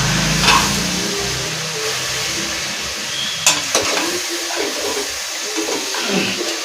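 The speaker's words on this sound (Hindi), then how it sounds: "इनको अच्छी तरह से मिला देंगे।" Vegetables fry in a pan while being stirred, with a steady loud sizzle and a few scraping knocks of the spoon, close up and without talk.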